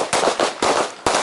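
Four close, loud handgun shots crack in quick succession during a combat shooting drill, spaced a few tenths of a second apart, with echoing tails.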